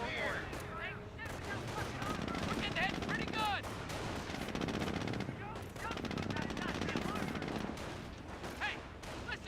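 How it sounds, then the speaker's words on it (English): Jeep-mounted machine gun firing steadily in a Company of Heroes battle, sustained rattling bursts mixed with other gunfire and battlefield noise throughout, with whistling and chirping effects over a dense, continuous din. "The Jeep's currently firing away."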